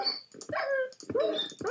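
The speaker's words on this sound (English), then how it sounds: "There's a dog in here!" A dog in Minecraft gives a few short, close barks and yips in quick succession, mixed with a whimpering tone, with nothing else around them.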